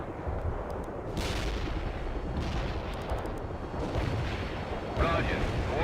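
Tank cannon fire in the World in Conflict video game booms over a continuous rumble of battle, several heavy shots spread across the scene with radio-style voice chatter mixed in.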